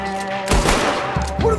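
Gunfire in the video game Red Dead Redemption 2, a few short sharp shots in quick succession, moderately loud over a quiet background.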